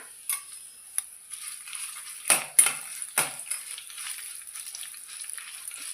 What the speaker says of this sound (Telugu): సో మెంతులు ఆవాలు కొంచెం వేడిపోయినాయి కదా, ఇప్పుడు ఎండుమిర్చి కూడా వేసేయాలండి